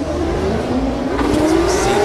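Drift cars launch from the start line at the OIDC 2024 drift competition, their engines roaring loud and steady with rising revs and tire noise throughout, close and continuous.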